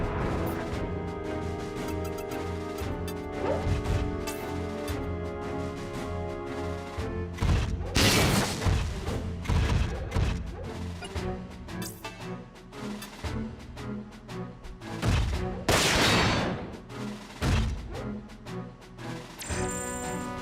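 Mech weapons fire in the video game Front Mission 4, with repeated loud crashing blasts and bursts over a dense, continuous game soundtrack, some impacts spaced apart and others clustered together.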